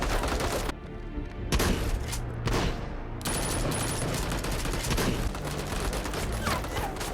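Gunfire crackles through a sniper firefight, with rapid bursts and sharp reports in quick succession, a few brief gaps between volleys and a continuous loud wash of shots and booms close by.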